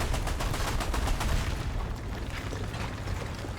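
Rapid bursts from the four-barrel Zerstorer 45 flak gun in a video game, a quick string of loud thumping shots for about two seconds that then gives way to a rumbling, booming tail.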